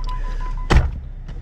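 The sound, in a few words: doors opening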